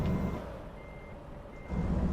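A truck in American Truck Simulator backing up with its reversing alarm: two bursts of steady electronic beeping, at the start and again near the end, over a low diesel idle, moderately quiet with no talk.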